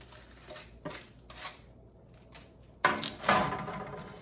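Crisp baked tortilla strips tipped into a bowl, a few light rattling clatters with short pauses, then a louder scraping tumble of strips near the end, close and with no talking.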